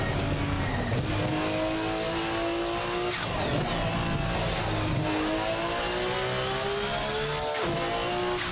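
A 1017 BHP Mitsubishi Lancer Evo IX laps the Nordschleife, its engine screaming close and loud as the revs climb and drop with repeated gear shifts and a brief squeal from the tyres.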